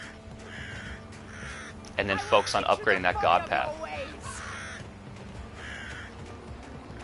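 Crows caw in the video game Vikings Wolves of Midgard, with a cluster of harsh, loud calls in the middle and fainter caws before and after, while someone talks over them.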